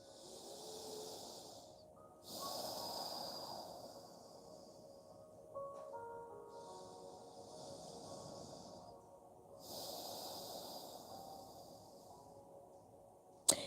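Nasal breathing during a yoga stretch: several slow, soft inhales and exhales through the nose, close and fairly quiet, with airy hiss swelling and fading in a steady rhythm and no talking.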